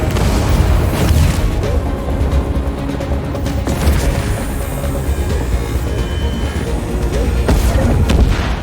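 Spaceship weapons and explosions in the space combat game Chorus, a dense, loud wall of booming blasts and rumbling detonations rolling continuously without pause.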